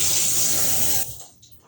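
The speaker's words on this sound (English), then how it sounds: "Put a little bit of cold water." Cold water splashes from a tap into a flat plastic container in a kitchen, a steady hissing stream for about a second before it cuts off to quiet drips.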